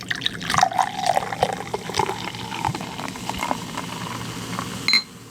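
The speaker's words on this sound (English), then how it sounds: "All right, I'm going to pour mine up a little bit." A carbonated tea-like drink pours into a glass with a steady liquid trickle and fizzing bubbles, fairly close and moderately loud, ending with a brief clink.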